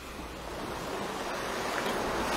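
Steady, full wash of sea surge rolling over a reef shore at daybreak in the water off Batts Rock and Fitts Village, a continuous close roar with a slight swell in loudness and some wind buffeting.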